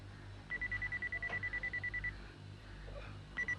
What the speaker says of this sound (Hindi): मिस्टर रोबो, ये बीप बीप क्या है?